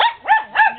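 Two sharp barks from a dog, close and loud, spaced about a quarter second apart with a brief whining tail after each.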